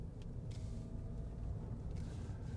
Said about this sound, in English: As there's a car coming, so you have to move back on to your own side of the road.